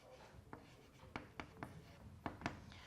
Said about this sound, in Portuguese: vamos escrever aqui